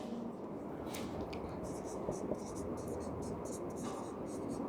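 Chalk or marker scratching across a classroom board during a history lesson, a steady dry rustle with short strokes and taps, close and fairly quiet, no talking over it.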